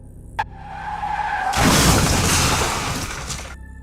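A car skids with a rising tire squeal, then crashes into a large tree: a loud, broad smash that roars on for about two seconds before cutting off, with no voices.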